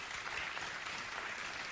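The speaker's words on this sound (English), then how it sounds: "They keep clapping for Glenn Greenwald" An audience claps for Glenn Greenwald, producing a steady, dense wash of applause with no breaks, loud and close in the hall.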